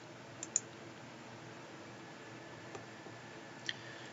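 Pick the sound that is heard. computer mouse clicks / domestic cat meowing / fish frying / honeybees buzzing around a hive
computer mouse clicks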